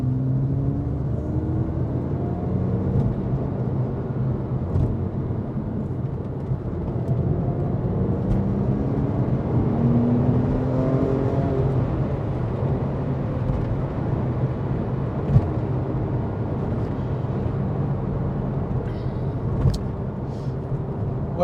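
A Porsche 997.1 C4S drives on the road in normal mode, its engine drone and tyre rumble holding steady from inside the cabin, with gentle rises in engine pitch and no talking.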